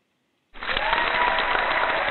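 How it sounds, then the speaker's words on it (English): A canned applause sound effect played within a SlideRocket presentation, starting abruptly from silence and continuing as a steady, slightly muffled crowd clapping. "but here's the applause."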